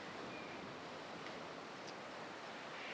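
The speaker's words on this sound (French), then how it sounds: "si vous tendez l'oreille, vous pouvez entendre le fracassement des vagues s'écraser sur les froides parois rocheuses" Steady broadband roar of sea waves breaking against cold, rocky cliffs at Oga Point, continuous and full with a windy hiss, no distinct individual crashes standing out.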